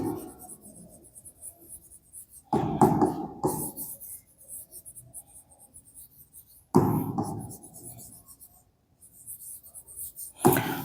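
Marker or chalk writing on a board during a physics lesson, with bursts of scratchy strokes separated by quiet pauses, recorded close and alone with no talk.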